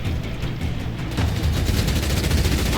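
Gunfire in the Halo Wars video game: a dense, rapid burst of automatic shots that grows louder and continues steadily after a brief lead-in.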